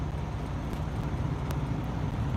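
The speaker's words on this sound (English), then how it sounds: "let me turn on the truck really quick because it's getting really cold in here" A truck engine idles steadily inside the closed cab with the heater running, a continuous low rumble and airy blower hiss that stay constant throughout, close and moderately loud, with no speech over it.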